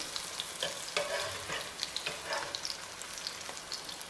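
Sweet potato pancakes sizzle and crackle steadily in a hot frying pan, with a few soft scrapes and taps as they are flipped, close and moderately loud with no talking.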